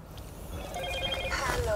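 A telephone rings in a Copenhagen street setting, a short electronic ringtone with repeated bright tones rising toward the end, heard over background street noise and under people talking.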